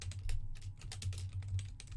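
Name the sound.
typing a blog title on a computer keyboard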